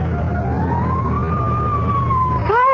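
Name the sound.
fire engine siren in radio drama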